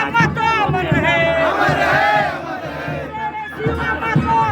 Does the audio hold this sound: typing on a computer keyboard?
no